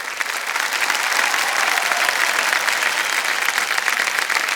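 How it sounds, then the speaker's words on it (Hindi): Sustained, dense studio-audience applause for a quiz game show contestant taking the hot seat, loud and steady throughout with no break. "जोरदार तालियां बज जाएं इनके लिए।"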